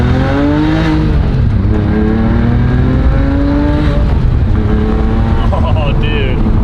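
A Porsche 911 Carrera S of the 997 generation revs its flat-six engine, with smooth rising and falling harmonic sweeps that run loud and steady throughout.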